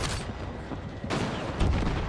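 A grenade blast in Battlefield 6 lands amid a steady wash of game gunfire, with a sharp loud burst near the middle and more heavy rumbling after, all continuous and close.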